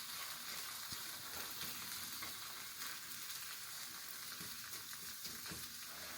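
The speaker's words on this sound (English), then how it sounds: "Now what I'm going to start doing is starting to scramble the eggs." Eggs mixed with Cheetos sizzle steadily in a hot pan while a spatula stirs and turns them, a continuous close frying hiss with occasional light scrapes and taps.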